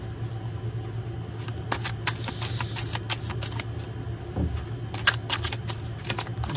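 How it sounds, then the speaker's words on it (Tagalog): A deck of playing cards shuffled vigorously, rapid crisp riffling and flicking in steady bursts over a low background hum, close by with no talking. "Balasahin po natin ng bongga."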